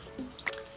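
Liquid drips and squishes as cooked soybean sprouts are drained, a few wet splashes and trickles heard close up over a faint background.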